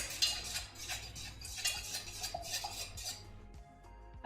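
A utensil stirs melted candle wax in a container, light clinking and scraping taps in a loose repeating rhythm, close and quiet, ending with a sharper knock.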